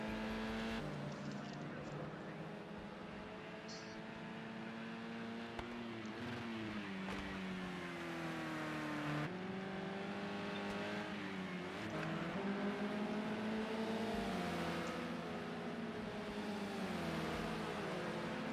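Race cars, including a Renault and a BMW, lapping the street circuit at Long Beach, with steady loud engine drones rising and falling in pitch through gear changes as cars accelerate and pass, under continuous background commentary.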